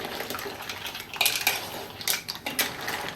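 A utensil scrapes and clinks against a pan as butter garlic mixed seafood is stirred, a run of metallic knocks and scrapes over a low background wash, with no one speaking.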